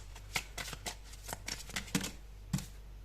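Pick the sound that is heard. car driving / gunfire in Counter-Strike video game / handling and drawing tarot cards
handling and drawing tarot cards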